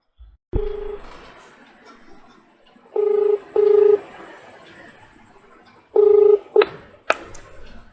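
A telephone call is being dialed: several short keypad tones, each a clean single beep, come in uneven bursts over a quiet line, ending with a couple of quick clicks.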